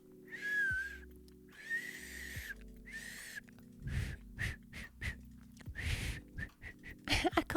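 A person tries to whistle, giving several breathy, airy whistle attempts that rise and waver, each with a puff of breath. Rustles and small noises close to the microphone fall between them.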